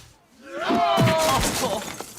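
Glass shatters as a staged special effect in a live comedy show, a burst of breaking and tinkling fragments that hits after a brief quiet and then trails off. A voice speaks around the crash.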